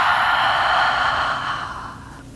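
One long, deep exhale out through the mouth during a yoga class, heard close and breathy and fading gradually over about two seconds.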